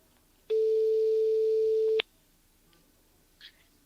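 Telephone call tone played through a Xiaomi Redmi Buds 3 Pro earbud, a single steady beep lasting about a second and a half, clear and prominent, followed by near silence.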